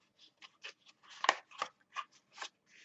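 Paper is folded into a journaling pocket: a sequence of close, crisp rustles and creasing scrapes in uneven bursts, with one sharper crackle near the middle and no voices.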